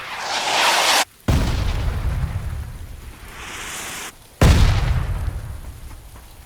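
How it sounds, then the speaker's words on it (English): Mortar shell explosions in the video game PUBG, two heavy booming blasts a few seconds apart, each followed by a long rumbling, crackling decay like falling debris, loud and alone without talk. "at least I can set up a mark and do a proper mortaring"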